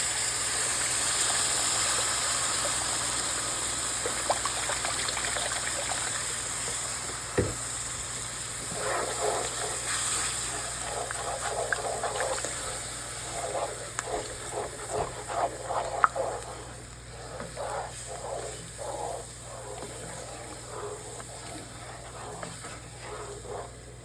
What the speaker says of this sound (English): And we're going to just let this boil away.